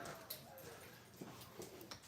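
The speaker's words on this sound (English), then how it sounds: "I'm gonna walk the dog because she's moaning at me while on stream" A pet dog whimpers and moans indoors in short, soft whines, several faint cries spread over a couple of seconds against a low background hum.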